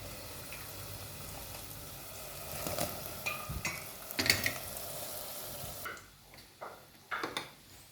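Fried khaja pastries dropped into sugar syrup, soft bubbling and sizzling with a few sharp clinks and splashes of the pastries going in, fairly quiet and without speech.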